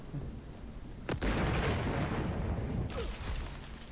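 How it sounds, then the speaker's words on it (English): A lightning strike and thunder crack in RuneScape: Dragonwilds at night: a sharp crack followed by a heavy rolling rumble, then a second, fainter boom trailing off, loud and close. "I think we got struck by lightning"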